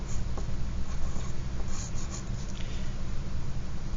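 Pencil or pen scratching across paper while a word is written, a continuous close rubbing scrape with small strokes over steady background noise.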